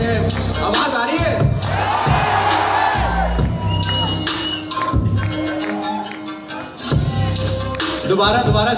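College event audience at LPU shouting and cheering loudly in a dense, continuous crowd roar, with a voice over the noise.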